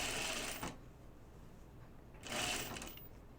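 A serger sewing machine stitching the sleeves of a Deer and Doe Myosotis dress, running in two short bursts of fast mechanical whirring with a quiet pause between, close and moderately soft.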